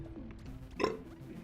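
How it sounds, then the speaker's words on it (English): A single throaty burp erupts about midway, short and fairly loud against a low background hum of game audio, as a gamer plays Enter the Gungeon. "A delicious, delicious burp."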